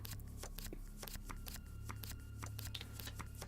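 Tarot cards shuffled in the video game Prognostic, a steady run of papery riffles and flicks lasting several seconds over a low background hum.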